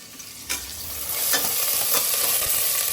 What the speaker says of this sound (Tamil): இதெல்லாம் போட்டு இப்படி வதக்கலாம்.